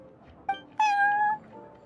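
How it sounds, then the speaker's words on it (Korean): A cat meows twice in the Genshin Impact card game, a short chirp followed by a longer drawn-out meow, close and clear over a quiet backdrop. "캐테일 술집에서 유저들을 상대하는 고양이라니 딱이지 않아?"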